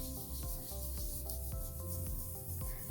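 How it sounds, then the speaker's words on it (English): Knuckle rubbing across paper pressed onto wet paint for a ladybug squish print, a soft scratchy rasp in repeated short strokes, close and fairly quiet. "Knuckle rub."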